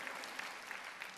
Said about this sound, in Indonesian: Beri sorak-sorai bagi Tuhan kita Yesus Kristus.